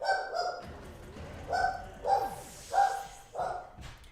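A dog named Zelda barks downstairs, several muffled barks at uneven intervals that sound indoors and somewhat distant.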